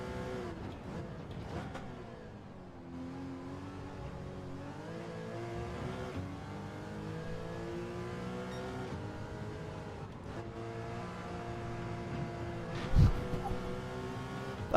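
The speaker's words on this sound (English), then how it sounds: "And the tire starts squealing" In Gran Turismo 7, a race car engine revs and shifts through a corner in an online cup race, with the tires squealing under load and a brief sharp scrub near the end.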